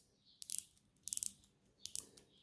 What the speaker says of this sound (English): Let's check the bezel action.